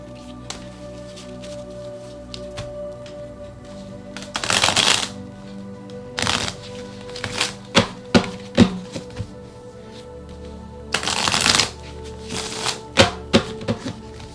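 Tarot cards are shuffled by hand in several bursts of riffling and soft slaps, close and crisp, separated by quiet pauses with small taps.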